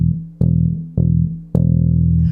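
A bass guitar plays a low E note in sustained, evenly spaced plucks, each ringing out and decaying before the next, clean, loud and close with no talking.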